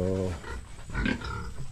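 A farm pig grunting and snorting up close, a rough burst at the start followed by softer, uneven grunts and rustling in a pen during an afternoon cleaning.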